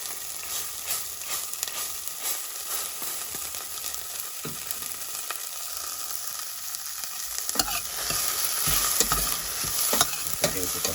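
Onions fry in a pan with a soft, continuous sizzle while a utensil stirs and scrapes at irregular intervals, growing louder and busier toward the end.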